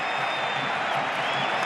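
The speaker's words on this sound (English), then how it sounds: "the crowd getting behind their team on this attack" A football stadium crowd at a Sevilla match roars in a dense, steady wash of cheering and applause, loud and continuous with no break.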